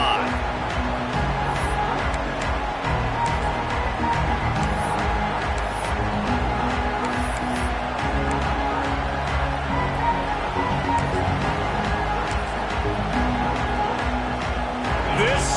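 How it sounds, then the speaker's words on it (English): Stadium crowd noise in the College Football 26 video game, a dense, steady roar of many voices with faint cheering swells, continuous and fairly loud throughout. "This crowd ready to make its presence known."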